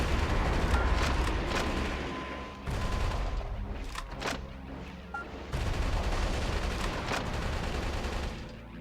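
Shooting in the video game Metal Wolf Chaos, loud rapid gunfire in sustained volleys with a few sharper cracks between bursts and brief lulls.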